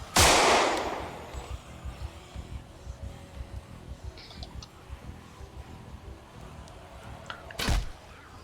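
Gunfire in the zombie survival game Project Zomboid: one loud shot at the start, then a stretch of quieter clatter and ambience before a second sharp shot near the end.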